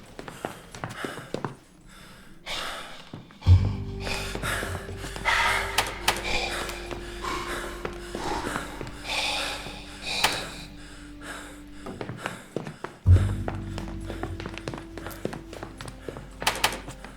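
Heavy, ragged breathing in the horror video game Ad Infinitum, gasps and snorts rising and falling over low droning tones, with occasional thuds and footsteps nearby.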